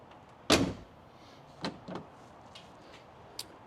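A Jeep JL rear cargo shelf being closed: one sharp knock, then two softer clicks a moment later and a faint tap near the end, close by in a quiet space.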